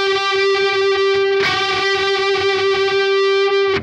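Sustained electric guitar lead with heavy distortion, the note bent up with the third finger at the 11th fret, in a 1970s rock style; one loud, ringing held tone with a renewed attack partway through, played alone.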